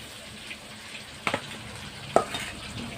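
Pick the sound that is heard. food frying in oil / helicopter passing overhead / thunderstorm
food frying in oil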